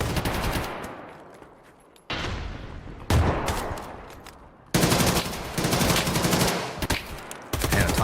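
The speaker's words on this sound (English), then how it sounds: "I like hearing the shots ring out" Big guns fire in the video game Tarkov Arena: heavy bursts of rapid gunfire crack out in several loud volleys, each trailing off into a ringing echo before the next round starts.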